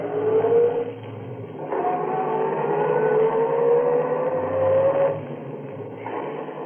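A car driving away fast at night as a radio drama sound effect, with a steady engine roar whose pitch climbs as it accelerates, then settles into a continuous drone.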